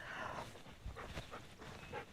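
A dog named Baxter, muddy and filthy outdoors by a van at Pine Lake on a B.C. backroad, makes low whimpering and snuffling sounds close by, with no speech over it.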